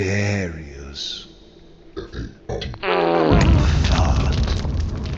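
A loud, low, sputtering fart sound effect from the Cryptmaster video game, following a rising voiced tone and a few sharp pops, then swelling into a long rumbling blast.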